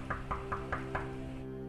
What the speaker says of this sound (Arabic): كأنه في حدا دق الباب.